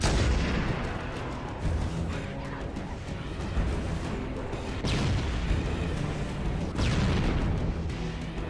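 A rocket launcher fires its last rounds in the video game Halo: Combat Evolved, its booming blasts sitting over a dense, continuous roar of in-game battle noise, with two sharper bursts standing out partway through.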